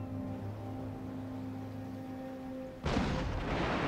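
A cannon fires canister shot during a Total War naval battle with Russia. A steady low hum is broken near the end by a sudden loud blast whose rumbling noise continues to the end.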